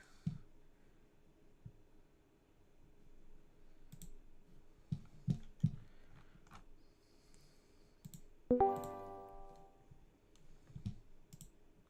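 Sparse clicks of a computer keyboard at a desk during online card-game tournament practice. Isolated taps and short clusters come close and fairly quiet, with one brief ringing tonal sound partway through and no talking.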